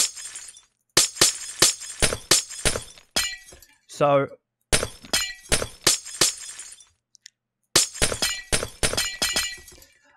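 Glass blocks shattering one after another in Minecraft, a rapid series of crisp loud crashes in bursts with short gaps, and a brief voiced sound between them.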